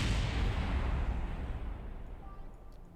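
Explosions in Kerbal Space Program during a Duna landing attempt: a loud, sustained rumbling blast that starts at full strength and slowly fades over about three seconds, with no talk over it.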